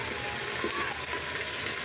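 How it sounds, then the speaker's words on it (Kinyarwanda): Chopped onions fry in an earthenware cooking pot with a steady, dense sizzle and hiss that stays close and loud throughout, with no pauses and no voices. "Igitunguru cyacu rero kirahiye."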